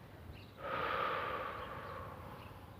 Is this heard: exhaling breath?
yes